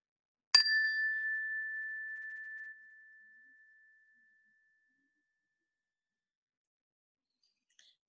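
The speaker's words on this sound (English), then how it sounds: "We'll begin the meditation with the ring of the chime" A meditation chime rings once, clear and bright, with a bell tone that fades slowly over about three seconds into silence.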